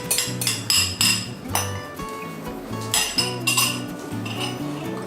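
Metal utensils clink and scrape against a hot buttered pan as eggs go in, with repeated close, bright knocks and rattles throughout.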